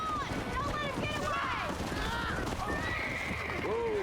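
Horses in the Western video game Red Dead Redemption, several loud whinnies and neighs rising and falling over galloping hoofbeats, with a voice talking underneath throughout.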